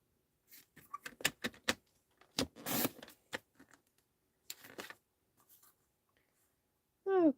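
Cardstock is trimmed for a border with quick, crisp cutting strokes and paper scrapes close by in a quiet room, in short irregular bursts with pauses between.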